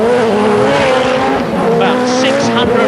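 Roaring, tightly packed engines of 600-horsepower rallycross cars on slick tyres with racing treads, racing at the 1990 British Rallycross Grand Prix, loud and continuous with tyre squeal and a commentator talking over the din.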